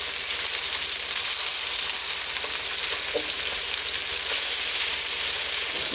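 Cubes of beef stew meat sizzle and fry steadily in a hot pan as they brown around the edges, a constant close crackling hiss with occasional sharper pops.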